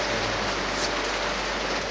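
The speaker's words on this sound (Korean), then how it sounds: "물소리가 너무 강해서" Loud rushing water of a stream beside a tunnel in Japan, a steady, dense hiss that fills the surroundings without pause.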